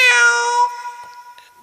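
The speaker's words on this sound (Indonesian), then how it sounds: "telinga mendengar suara kucing, hati ingat" A single cat meows clearly and fairly close, one drawn-out harmonic cry that fades over about a second and a half, with no talk around it.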